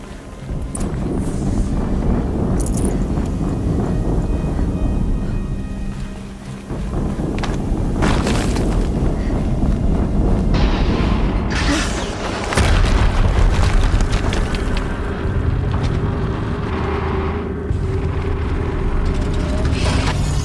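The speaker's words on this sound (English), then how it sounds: "Another explosion." Loud, rumbling explosions and heavy booms from combat in Horizon Zero Dawn, a dense continuous roar of blasts with a brief dip near the middle and a stronger burst later.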